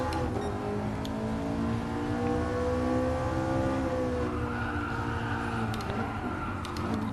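A 2010 McLaren MP4-12C driven in Gran Turismo Sport on a track drones steadily at high revs, its engine note sliding gradually up and down through corners, loud and continuous with no talking.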